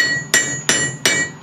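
A blacksmith's hammer strikes an anvil three times at an even pace. Each blow is a sharp, loud, close metallic ring that fades before the next, and no one speaks.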